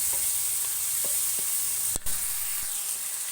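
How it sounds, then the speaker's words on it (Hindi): Spices for aloo methi sizzle steadily in a hot pan, a continuous bright hiss with a few soft taps of stirring and one sharp clink near the middle. "ये मसाले जो हैं ये माशाल्लाह से ये फ्राई हो गए थे।"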